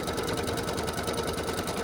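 Embroidery machine stitching brown top thread over a white bobbin thread on an in-the-hoop card holder, a steady fast mechanical whirr that runs loud and unbroken throughout.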